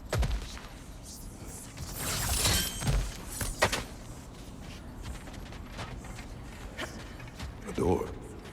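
A heavy door mechanism in God of War Ragnarök grinds and creaks open, with sharp clattering and ratcheting bursts over a low rumble and a final thud.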